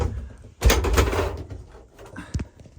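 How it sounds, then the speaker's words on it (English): A solid compartment door on a Hymer S650 motorhome is handled and shut, a firm thud followed by a few smaller knocks and clicks nearby. "it has a solid door that you pull out to"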